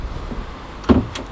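A cabinet door shuts aboard a 2021 Sunseeker Manhattan 55 flybridge motor yacht, giving one short, soft thud with a faint rattle close by in a quiet interior.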